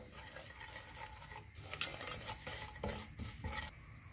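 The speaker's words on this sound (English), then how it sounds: "giving that a good stir around for 30 seconds to a minute" Spices being stirred around a hot pan in a home kitchen while cooking a vegan meal, a steady scraping and shuffling with light sizzle, close and fairly even, no voices.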